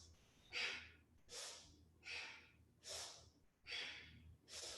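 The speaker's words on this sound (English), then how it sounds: "You're breathing through the nose" Slow nasal breathing in and out during a yoga vinyasa flow, six soft rhythmic breaths roughly every 0.8 seconds, close and quiet, with no talking.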